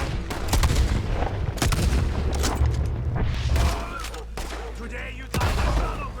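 Gunfire in a Red Dead Redemption 2 shootout cracks out in rapid, booming shots, close and loud over a constant low rumble. The volleys come in dense, overlapping bursts with a few louder reports standing out.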